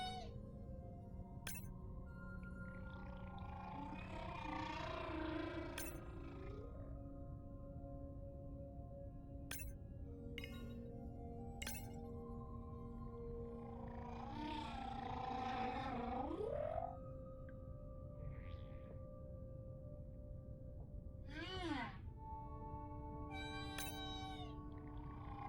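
Whale calls in the underwater game Beyond Blue: long, moaning tonal cries that rise and sweep, repeating at intervals over a steady deep-water rumble, with faint glassy clinks between them.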